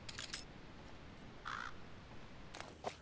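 Crows cawing in Metal Gear Solid V: The Phantom Pain, a few faint, distant calls scattered over a steady low ambient hiss, with no one talking.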